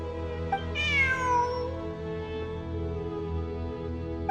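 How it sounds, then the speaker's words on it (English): A single cat meows in Genshin Impact, one clear drawn-out mew rising then falling over a steady hum of background game music. "Look, a cat."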